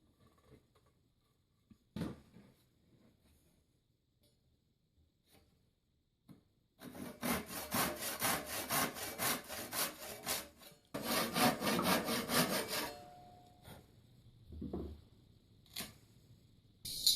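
A hand saw cutting through wood along a scribe line on a simple workbench build, with steady rasping strokes in two long bursts after a quiet stretch with a few knocks.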